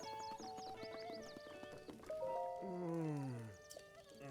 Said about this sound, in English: There's a horse.